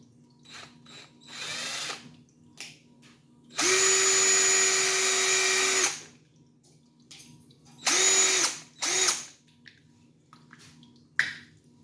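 A power drill bores a hole into a plastic cup, whirring loud and steady for about two seconds. Two shorter bursts follow, with small clicks and handling noises in between.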